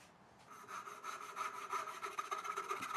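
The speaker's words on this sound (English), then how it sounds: "And then you can use the shoulder to reference your saw and just get a nice plumb cut." A hand saw cuts a wooden dovetail joint with steady back-and-forth rasping strokes, close and fairly quiet, building to an even rhythm after a short start, with no talk.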